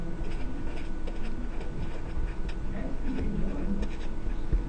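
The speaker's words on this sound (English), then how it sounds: "So I am just going to write use inverse operations." A marker scratches and squeaks across a board in short strokes as a math teacher writes out a line, close and steady, with a faint low hum underneath.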